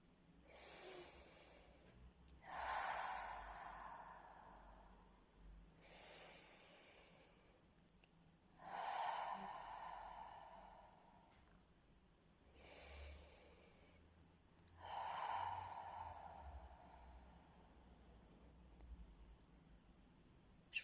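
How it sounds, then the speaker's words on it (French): Six slow, deep breaths in a calm meditation, each a long airy exhale through the mouth separated by quiet pauses, close and soft with no talking. "je vous invite à prendre 3 grandes respirations et à expirer 3 fois par la bouche"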